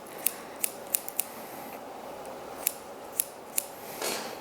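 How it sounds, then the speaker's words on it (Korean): Scissor blades snip hair in a salon while a bob is cut, the back length held against a comb: about nine sharp, close metallic clicks come in irregular pairs and singles over quiet room noise, followed by a soft brushing rustle. "뒷길이를 빗을 대서 자르는 거예요"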